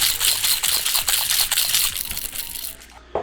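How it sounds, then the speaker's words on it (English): A cocktail shaker holding pebble ice, elderflower liqueur and mezcal gets a whip shake, giving a fast, busy rattle of ice that runs for about three seconds before a final knock. "and then we're giving it a nice whip shake."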